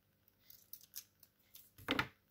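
Scissors cutting a thin material for a flower craft, a few faint snips followed by one louder, close crisp cut near the end.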